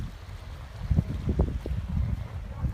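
Gusty breeze buffets the microphone on a sandy beach at super low tide, a low rumbling roar that swells and fades in uneven bursts with no voices.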